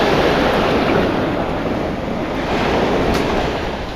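Ocean waves wash steadily onto a beach in Sarasota County, Florida, a loud, continuous surf roar with some wind buffeting the microphone and no voices.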